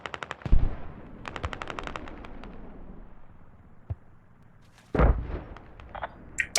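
A creeping artillery barrage mixes with gunfire in a video game battle: rapid machine-gun bursts crackle, a heavy blast lands near the start, and a second loud explosion hits later, with scattered shots in between and no talk.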